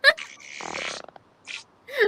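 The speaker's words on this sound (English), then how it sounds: "That's a cartoon fart." A cartoon fart sound effect gives a short, buzzy, rasping blurt lasting under a second, set between bits of nearby voice.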